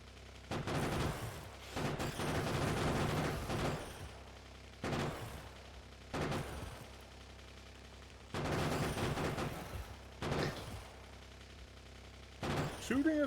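Bursts of gunfire from the top-down factory-building game Factorio, loud volleys of rapid shots in separate clusters with short quieter gaps between, some overlapping impacts and explosions.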